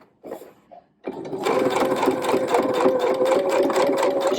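A sewing machine stitches an ironing board cover, starting after a brief pause and then running in a steady, loud, rapid mechanical whir, close up with no talking.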